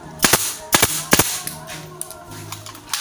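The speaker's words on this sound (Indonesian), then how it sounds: "Jadi ketika tembakannya ditekan itu langsung keluar pakunya." A nail gun fires three sharp, loud cracks into wooden board, spaced about half a second apart, followed by softer clicks and handling noises.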